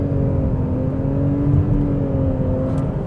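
2024 Nissan Rogue Platinum with a turbocharged three-cylinder engine accelerating hard in Sport mode, a loud, steady engine drone with rising whirring tones heard from the cabin, with no talking.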